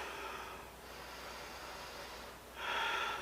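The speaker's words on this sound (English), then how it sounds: "Big breath." A big, airy breath drawn in during a barre exercise, a soft breathy rush heard twice, close and quiet, with the second intake louder, no speech.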